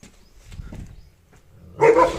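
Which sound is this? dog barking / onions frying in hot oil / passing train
dog barking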